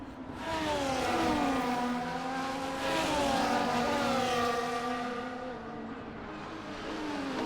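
Race cars in the F1 24 game accelerating hard after a safety-car restart, several engines revving loudly and rising in pitch together, continuous and close.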